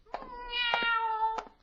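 A cat meows behind a hedge, probably a voice imitating it: a drawn-out, rising and falling meow of about a second, framed by short sharp bursts at the start and end, fairly close and clear.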